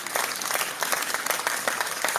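A small group claps during a live online audio chat room, a soft, dense patter of many hands that runs steadily and a little distant, without speech over it.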